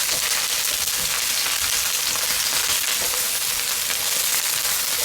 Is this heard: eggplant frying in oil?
yes